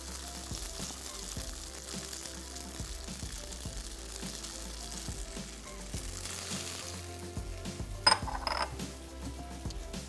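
Boiled spaghetti sizzles and fries steadily in a pan of flavoured oil, with a continuous crackle, occasional clinks of utensils and a brief louder stir near the end; no talking.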